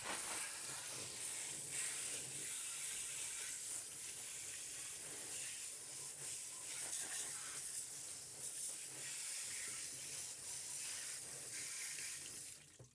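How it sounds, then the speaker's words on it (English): A fresh-water sprayer blasts debris off the suction side of a pump used for goat drinking water, a steady, loud hissing spray running nonstop for about twelve seconds with no voices. "Now I'm going to take the fresh water and I'm going to blow off the pump."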